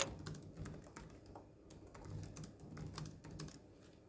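Someone types a task name on a computer keyboard in a steady run of quick, close, light key clicks with small pauses.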